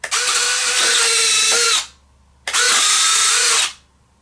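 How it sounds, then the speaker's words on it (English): Electric retractable landing gear on an RC Zero Fighter warbird model whirring loudly, two close servo-like runs each lasting under two seconds with a short pause between. "This is a look at the retracts in action."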